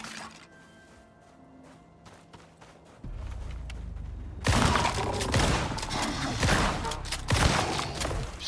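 Rapid bursts of gunfire in the survival game Icarus, a quiet ambience that jumps into a loud, dense run of repeated shots with sharp impacts.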